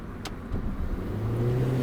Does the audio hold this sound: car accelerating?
yes